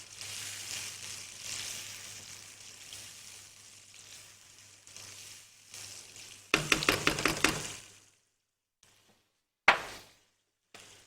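Meat and chana daal frying in hot oil give a steady sizzle, then a run of quick stirring clatters and knocks in the pan, with short bursts of sizzling after a brief pause.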